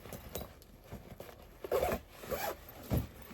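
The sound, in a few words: zipper on a bag being handled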